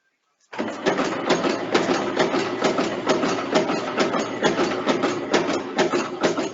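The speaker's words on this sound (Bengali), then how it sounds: "দেখো আমি মোটরটা চালু করব" A workshop machine's electric motor kicks on after a moment of silence and runs with a steady, close mechanical whir marked by rapid rhythmic clatter.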